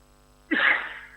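A single short, sharp sneeze bursts out close by after a quiet pause, a quick intake followed by a loud airy explosion that trails off within about half a second.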